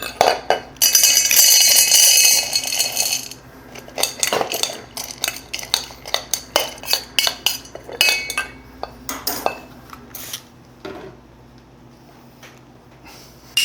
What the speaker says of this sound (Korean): 이런 깔때기를 이용해서 홉을 좀 더 편하게 넣어줍니다